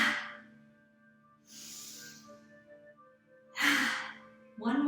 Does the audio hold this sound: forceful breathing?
yes